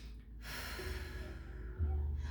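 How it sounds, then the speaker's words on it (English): One deep, audible breath drawn in through the nose during a prenatal yoga flow, close and soft, lasting about two seconds. "I like to even take a breath in."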